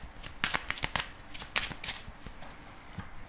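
A deck of tarot cards being cut and handled, a quick series of crisp close riffling snaps and flicks in irregular bursts, fairly quiet.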